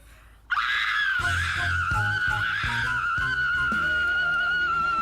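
Someone screams long and loud from start to finish, a sustained high-pitched shriek that does not break, with faint rhythmic background sounds underneath and no clear talking.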